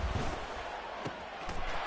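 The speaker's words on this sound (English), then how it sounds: "the crowd getting into it as we come up on a big 3rd down" Stadium crowd at a football game roars steadily in a broad, continuous wash of noise ahead of a big third down, with a few sharper swells rising out of the din.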